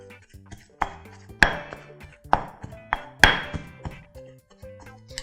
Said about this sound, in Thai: โขลกจนเนื้อปลาหนึบกันกับพริกแกงนะคะ